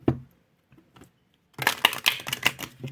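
Tarot cards drawn and handled in a quiet room: after a short early rustle and faint taps, a busy run of crisp shuffling, flicking and papery snaps fills the last half, close and fairly loud, with no talking.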